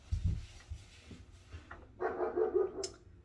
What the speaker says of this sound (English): He's still puppy, so he's still small.